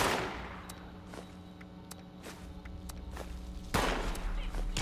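Fusion rifle firing in the video game Fallout 76, a rapid series of sharp shots in an uneven burst, fairly quiet under a background hum, with a louder blast at the end.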